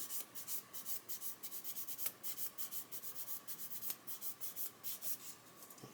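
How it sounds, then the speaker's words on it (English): Rapid, rhythmic rasping of sandpaper rubbed back and forth over a mould line on a plastic model kit chassis, close and fairly quiet, with steady short strokes and no talking. "so we're going to sand that away"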